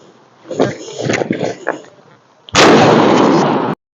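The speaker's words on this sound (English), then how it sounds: "12 gauge slug on the plate." A 12 gauge shotgun slug is fired at an OXO armor plate: a single loud, close blast with a sustained roaring crack that cuts off abruptly, following a stretch of muffled handling noise and voices.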